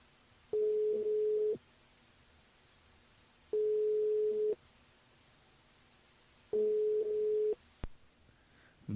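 An unanswered telephone call plays three steady ringback tones. Each lasts about a second, with long silent gaps between them. A faint click and rustle follow at the end.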